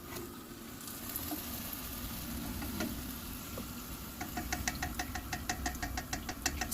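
Chebakia pastries cooking in hot honey, giving a steady soft sizzle and bubbling that grows into a denser run of rapid crackling pops toward the end, close and alone without any talking.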